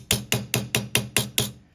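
A chasing hammer strikes metal to texture it: seven sharp, evenly spaced blows in quick succession, each ringing briefly before the next, close and clear with no talking.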